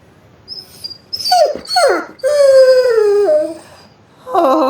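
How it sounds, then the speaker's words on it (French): A small dog whines and howls for attention, rising and falling drawn-out cries with brief breaks between, close and clear with no talking. "Un petit chien qui demande de l'attention."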